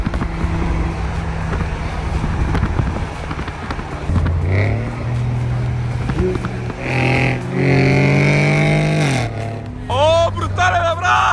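A Lamborghini Huracan accelerating in Dubai, its engine note rising in pitch through several revving surges, loud and close, with people talking over it.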